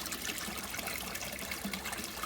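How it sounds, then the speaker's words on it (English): Water poured steadily onto garden plants, a soft continuous trickle and splash that holds at an even level throughout with no talking. "I will water the plants with the water from here"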